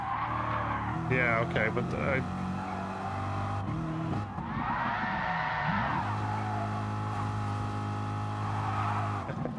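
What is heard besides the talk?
car braking with tire squeal in Gran Turismo Sport video game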